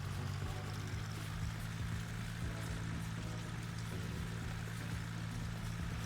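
A Fendt tractor engine in Farming Simulator 19 drones low and steady from the cab, a constant deep rumble with no change in pace and no voices.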